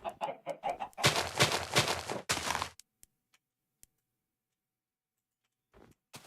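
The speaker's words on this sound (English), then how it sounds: "Let's lure some chickens, too, while we're at it." A few Minecraft chicken clucks open, then a loud blocky thumping burst follows, after which near silence holds with tiny clicks before a faint cluck returns at the end.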